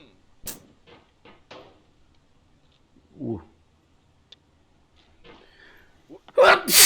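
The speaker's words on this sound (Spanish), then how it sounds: "Mal momento para estornudar." A person sneezes while playing the climbing video game Getting Over It: faint breaths and small vocal noises lead up to one loud, abrupt sneeze at the very end.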